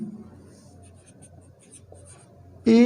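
Pen scratches steadily across paper as a math problem on angles of elevation and depression is worked out, a run of light strokes and taps that ends in a sudden louder burst.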